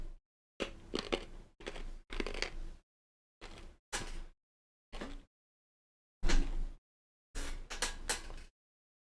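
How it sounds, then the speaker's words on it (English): Hard candy crunched between the teeth in a series of close, loud bursts separated by short silences, about ten crunches in uneven rhythm. "I'm crunching my candy."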